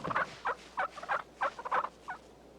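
Merriam's wild turkey gobbling outdoors in a series of about seven sharp, rattling bursts at a steady rhythm, fairly close and clear, with no talk.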